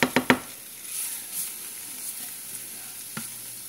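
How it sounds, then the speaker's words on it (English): Butter, about 2 tablespoons, sizzling as it melts in a pan heated for pancakes and an omelet, starting with a few sharp clatters and then settling into a steady, fairly close hiss with no talking. "So I'm gonna add in my butter."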